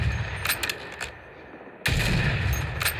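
Gunfire in the online shooter game Warzone: a few sharp cracks, then a sudden loud burst that continues as steady, heavy noise.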